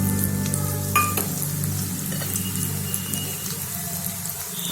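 Arhar dal frying in hot oil in a pan for an idli sambar, a steady close sizzle with a few clinks and faint watery stirring, no talk.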